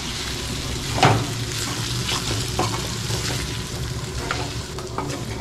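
Food fries in a pan on a gas stove with a loud, steady sizzle. Occasional scrapes and clinks of stirring come through, including a sharper knock near the start.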